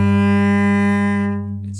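A slightly sharp sustained note on a bowed string instrument in first position, compared against the open G string, rings steady and close with a rich harmonic tone before fading at the end.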